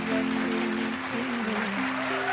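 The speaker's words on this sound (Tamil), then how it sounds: "இப்போ நம்ம கொடுக்கிற கைதட்டல் ரொம்ப ரொம்ப முக்கியம்" Audience clapping steadily for Aadhavan Muthukumar at a Na Muthukumar tribute event, a dense sustained wash of applause with some tonal hum in the hall underneath.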